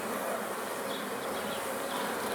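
Honey bees swarm around an open beehive during an inspection, making a dense, steady, close buzzing drone that stays constant throughout with no voices.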